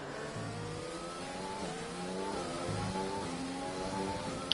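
Racing car engine in an F1 esports video game, heard from the on-board view: a loud, steady high-pitched engine note with rising and falling revs through gear changes and no talking over it.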